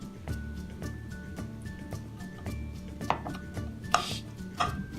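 Kitchen knife slicing cleaned mushrooms on a cutting board, a series of soft, quick, regular taps and cuts, close and fairly quiet, with a few sharper knocks near the end.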